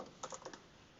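A short burst of keystrokes on a computer keyboard as an address is typed, a handful of quick, soft clicks close by in a quiet room with no talking.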